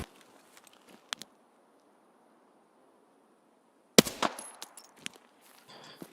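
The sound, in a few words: Scav gunfire in the video game Escape From Tarkov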